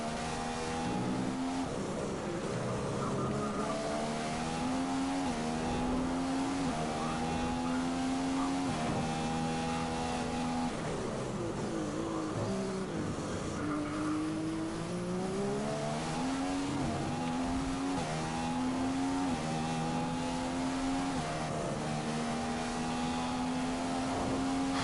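F1 race cars from F1 2015 on PS4 scream continuously, the engine note rising and dropping with each gear change and corner, loud and unbroken for the whole stretch.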